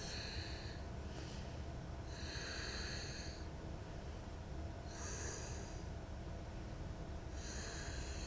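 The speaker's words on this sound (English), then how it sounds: "Deep breath." Deep yoga breaths repeat at a slow, even rhythm, with close, airy inhales and exhales arriving in distinct pulses a few seconds apart over a faint background hiss.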